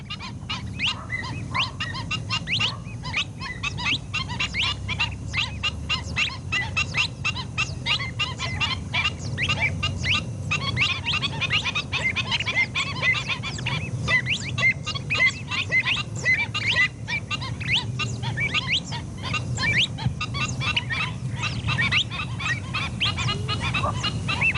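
Many wild birds call at once across the Chet Marwan wetland in Algeria, a dense, steady chorus of honking and cackling goose-like calls, with overlapping chatter running throughout and no pauses.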